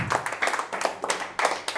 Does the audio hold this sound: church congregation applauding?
yes